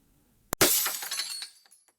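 A heavy marble bust strikes a tempered glass wall with one sharp, loud impact, followed by about a second of cascading crackling and tinkling glass that fades to a few last clinks.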